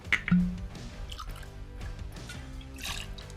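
Habanero shrub, rye and blended whiskey poured into a mixing glass, a soft close-up drip and trickle of liquid running for a few seconds with light glassy clinks, no talking.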